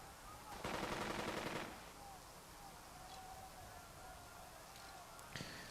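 A rapid machine-gun burst in the World War II game Burden of Command rattles loudly for about a second, then gives way to a quieter, steady battlefield background with a faint high tone and one short crack near the end.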